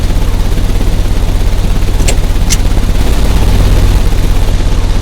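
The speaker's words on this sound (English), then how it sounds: "The engine has started." A machine engine in the Sherlock Holmes Crimes and Punishments video game drones in a loud, steady low rumble. It runs continuously with a couple of faint high clicks partway through and no voices.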